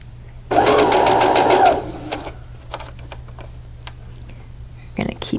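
A sewing machine stitches a quarter-inch seam in a quick, loud burst of about a second, then stops, followed by faint clicks and handling noises.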